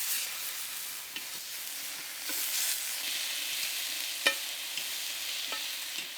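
Steak sizzles steadily in a large cast iron skillet outdoors in a garden in Ireland, a constant close hiss broken by a few faint clicks and scrapes.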